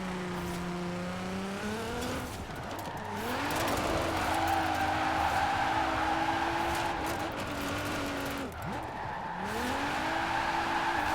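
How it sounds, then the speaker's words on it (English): An all-wheel-drive car drifts and skids in a video game, its engine note climbing and falling in steady revs while tires squeal through long slides. The sound is loud and continuous, with a brief dip before it picks up again. "This car doesn't really want to drift very well"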